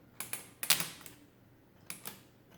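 The keyboard of a Friden STW10 mechanical calculator clears with a burst of sharp metallic clacks, first a cluster of several snaps and then two more after a short pause, close and crisp.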